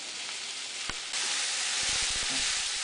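Fresh sausage sizzles in a pan with a steady, bright frying hiss that swells partway through, accompanied by a few soft low knocks and clicks, no voices.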